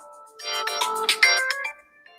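A phone rings with an incoming call, a bright melodic ringtone playing a series of close, clear tones for about two seconds with no voices over it.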